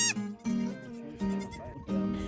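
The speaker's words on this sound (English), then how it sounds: "Will you guys please give us a thumbs up for these cute, adorable baby goats?" Newborn baby goats on a desert homestead bleat in several short, high, wavering calls, close by, with brief pauses between them and no talking.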